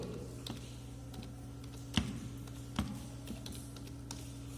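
Soft keystrokes on a computer keyboard while a file name is typed, a handful of irregular clicks with two sharper taps, over a steady low electrical hum and no speech.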